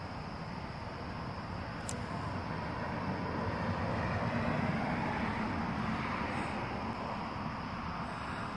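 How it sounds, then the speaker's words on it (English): Steady broadband rumble of car tires rolling over a freshly laid crushed granite and gravel village road surface, loud and continuous throughout with no voices. "The tire noise is huge."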